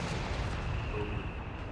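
Mortar and artillery fire in the real-time strategy game Company of Heroes 3, a dense rumbling wash of distant booms and gunfire running steadily through the whole stretch, fairly quiet with no clear single impact standing out.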